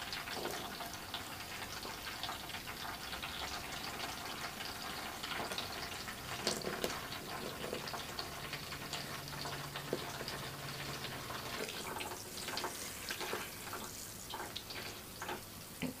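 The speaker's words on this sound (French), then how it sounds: "On inclinera toujours le jet de l'avant vers l'arrière pour justement éviter de mettre de l'eau vers l'avant" Water jet from a shower head rinsing hair, a soft, continuous hiss of running water with some faint splashing, heard alone.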